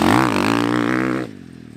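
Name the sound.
motorcycle wheel chatter while braking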